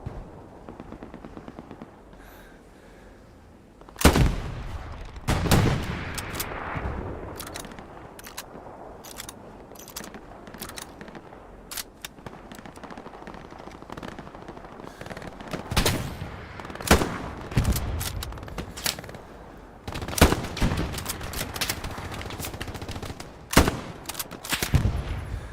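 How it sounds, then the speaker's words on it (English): Gunfire in the video game Hell Let Loose: scattered sharp rifle cracks and short bursts at varying distances, some loud and close, others distant, spread irregularly over a low battlefield ambience. "He's gonna take another pop shot at me."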